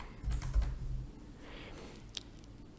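Quick bursts of typing on a computer keyboard while writing a few lines of Python, light clustered keystrokes close by with a couple of isolated taps afterward, no voices.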